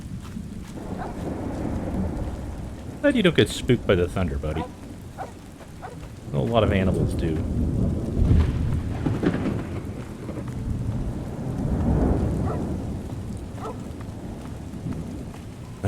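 Steady rain and low thunder rumbles in Fallout's Tale of Two Wastelands continue throughout, while someone talks briefly over the storm in a few short bursts.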